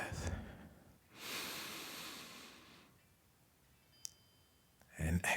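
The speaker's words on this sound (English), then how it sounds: "take a big, deep breath" A deep breath in during a meditation exercise: a soft airy inhale swells and holds for about two seconds, then fades, followed by a click and a brief louder rustle near the end.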